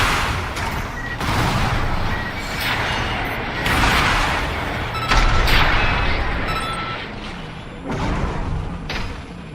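Heavy mech weapons in Armored Core 6 fire a rapid series of loud booming shots and blasts, repeating every second or so over a continuous mechanical roar, close and dense with no talking.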